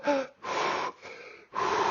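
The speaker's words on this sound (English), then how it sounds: "take a big breath and then go" Big breaths taken during a breathwork demonstration, four forceful close gasping inhales and exhales in a quick rhythm, loud and breathy with no talking.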